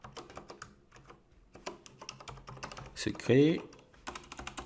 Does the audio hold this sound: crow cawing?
no